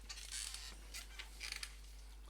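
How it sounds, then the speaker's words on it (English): A squeaky office chair creaks in a few short, scratchy bursts, faint and close by, with no one talking. "So you can hear my squeaky chair there."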